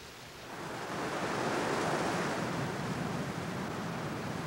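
The Niagara River pours over the escarpment in a broad, steady roar of rushing water that swells over the first second and then holds loud and constant, with no voices.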